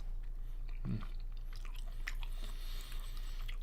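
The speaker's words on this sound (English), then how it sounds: "I have to chew." Steak being chewed close to the mic, soft wet crunching bites under a steady low background hum.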